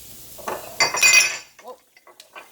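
Glass dishes clinking and knocking as they are moved around a home kitchen while stuffed portabella mushrooms are prepared, a cluster of bright clinks near, then softer scattered taps.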